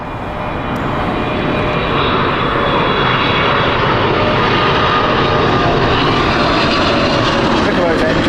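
Airliner jet engines at Heathrow Airport produce a loud, broad, continuous roar that builds slightly and then holds steady throughout.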